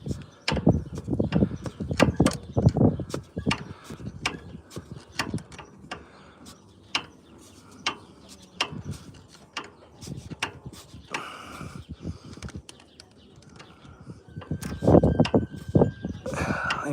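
A wrench working a hydraulic line fitting tight, with repeated close metallic clicks, scrapes and clanks in an uneven rhythm, plus a few brief sounds of effort.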